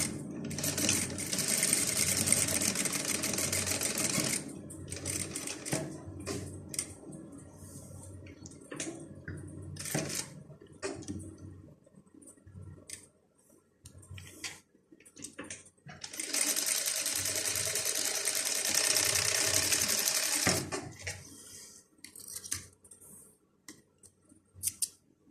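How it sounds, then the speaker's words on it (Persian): Sewing machine stitching a fabric collar, running in two long fast whirring bursts with a short stop-start stretch of clicks and handling noises between them, close and clear. "الان میام این رو چرخ میکنم. بهتره که چرخ رو روی درجه ریز قرار بدیم."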